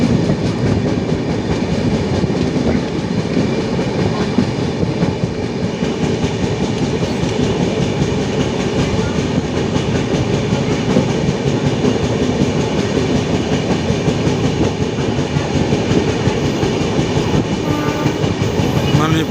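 A passenger train pulls out past Berhampur station with a continuous loud rumble and rattle of wheels on track, a steady clatter heard from on board for the whole stretch.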